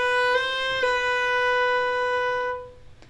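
A fiddle plays a B on the A string with a finger flick ornament slowed down, a sustained bowed note broken by two brief pitch blips before ringing on and fading out; no talking.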